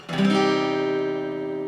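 A single strummed guitar chord rings out with the low E string left unmuted, giving a full, slightly dissonant bass, sustaining and slowly fading.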